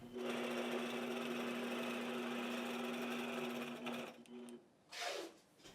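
A long-arm quilting machine runs at a steady, loud, even hum and whir as it stitches along a seam line, then slows and stops, followed by a brief swishing movement.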